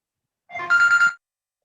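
An iPhone ringtone goes off in a classroom: a single short burst of bright, harmonic ringing tones lasting under a second, fairly loud, with no talk over it.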